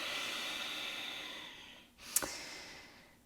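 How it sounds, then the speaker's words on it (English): A person takes a long, breathy inhale and exhale while holding a yoga pose in a calm hatha session, close and soft, ending in a short sharp sniff. "Deep breath here."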